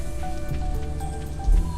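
Soft steady rain falls in Stardew Valley, a continuous light patter with faint rustle under quiet game music, and a brief low thump near the end.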